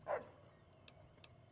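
A dog in the video game Fallout New Vegas gives one short, happy bark at the start, followed by two faint clicks in otherwise quiet surroundings.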